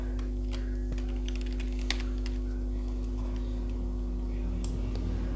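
Quick computer keyboard typing of C++ code, a run of close, light key taps in an uneven rhythm over a steady low electrical hum.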